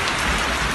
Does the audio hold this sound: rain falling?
yes